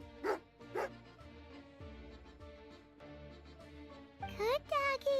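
Dog barks from a companion dog in the video game Genshin Impact, two short sharp yips near the start, then later whimpering, high-pitched whines over steady game music.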